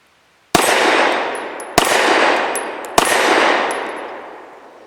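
Three loud, close gunshots from an S&W Performance Center SW1911 Pro Series 9mm pistol firing Liberty Civil Trainer 65-grain rounds, spaced about a second apart, each with a sharp crack and a long ringing tail.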